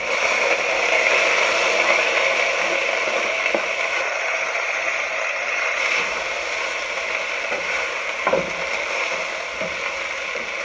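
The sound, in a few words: onions and peppers frying in a hot pot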